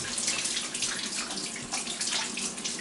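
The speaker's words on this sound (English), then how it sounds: "I'm gonna rinse off my hands" A kitchen sink tap runs steadily while hands are rinsed under it, making a close, continuous splashing hiss with no talking.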